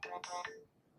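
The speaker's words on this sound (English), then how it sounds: "just getting a phone call there" A short, bright electronic ringtone from an incoming call on a mobile phone, two or three quick melodic pulses fairly close and alone before fading out.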